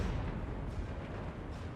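Crane gun artillery fire in Total War Warhammer 3, a dense, low rumbling barrage of cannon blasts that stays loud and continuous throughout a brief stretch, with no talk over it.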